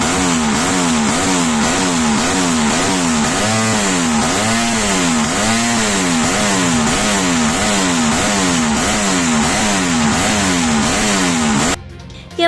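Racing motorcycles at the Yamaha Cup-Race 2024 on the Kareang track in Pangkep, South Sulawesi, fill the air with a continuous loud buzzing engine roar that rises and falls rhythmically as bikes rev and pass, cutting off abruptly at the end.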